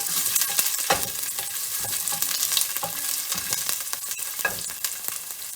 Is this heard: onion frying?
yes